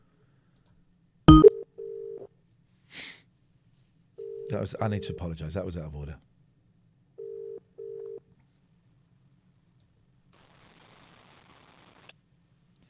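A telephone call being placed on a live stream: a sharp click, then short bursts of dial and ringback tones separated by pauses, with a voice talking briefly between the tones and faint static near the end.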